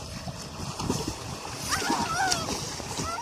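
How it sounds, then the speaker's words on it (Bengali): People jump into a village pond, making a churning splash of water that runs the length of the moment, with voices and shouts mixed in. "এখন আমরা লাফ মারতে চলেছে পুকুরে"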